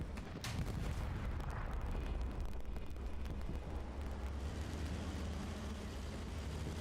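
A tank is struck by a shell in the tank battle game Hell Let Loose, with a sharp distant impact early on over a dense, continuous roar of engines and gunfire rumbling throughout.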